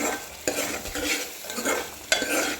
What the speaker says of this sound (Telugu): దీన్ని ఇలా వేయించుకుంటున్నాం కదా, కొంచెం వేగాక ఇలా ఆయిల్ సపరేట్ అవుతూ వస్తుంది.